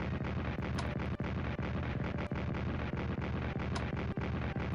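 Artillery fire in a World War 1 strategy game on the Western Front, a sustained rolling barrage of deep booms punctuated by several sharp cracks, loud and unbroken, with no voices.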